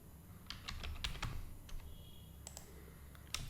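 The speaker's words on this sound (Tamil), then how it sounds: "கமெண்ட்டில் நான் ஃப்ளோட் வேரியபிள் டிக்ளரேஷன் இங்கேயும் டைப் பண்ணுறேன்." Quick bursts of keystrokes on a computer keyboard, irregular clicks typing code in a quiet room, close and fairly soft with no talking.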